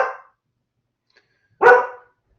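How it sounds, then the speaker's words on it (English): A dog barks at the mailman indoors, two sharp, close barks separated by about a second and a half of silence, the first cut off at the start. "My dog's excited about the mailman"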